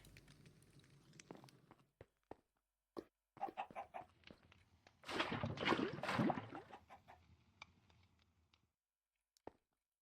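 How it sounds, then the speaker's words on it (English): Lava chicken in Minecraft Stoneblock 4 clucking in scattered short bursts, with a denser cluster of clucks and scratchy game noise midway, then fading to sparse isolated sounds. "that's why the lava chicken's so nice"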